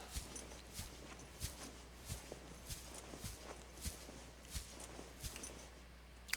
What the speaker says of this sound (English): Oh no, that's my footsteps.